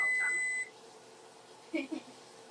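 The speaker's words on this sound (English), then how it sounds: "Turn off timer." A kitchen timer gives a bright, sustained electronic beep that cuts off after about half a second, followed by a quiet room and a short murmur of voice.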